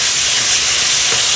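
A stuffed portobello mushroom sizzles in a hot pan, giving a steady, close, loud frying hiss with no pauses over the short stretch and no voices.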